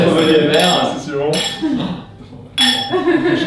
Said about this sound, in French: Alors on va déjà trinquer.